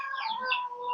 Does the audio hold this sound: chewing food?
no